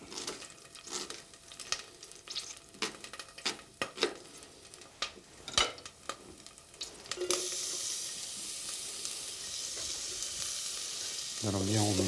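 Finely diced shallot sizzles and crackles in a hot pan, with scattered stirring clicks before the frying hiss grows into a steady, louder sizzle near the end.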